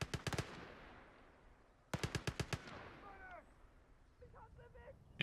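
In the video game Call to Arms: Gates of Hell, a .50 calibre machine gun fires in two quick bursts of rapid, sharp reports that decay into echoing tails, followed by fainter distant crackles of gunfire.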